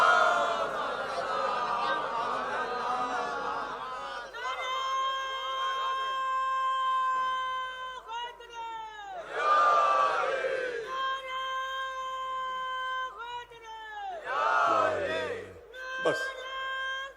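A majlis congregation in Faizabad, Uttar Pradesh, recites salawat loudly in unison, with swelling, sustained chanting voices rising and falling in several waves, a large crowd filling the hall.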